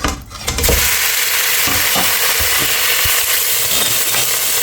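Ground beef for a moussaka tray hits hot oil already used to fry garlic, bursting into a loud, steady close sizzle with occasional utensil clinks from stirring.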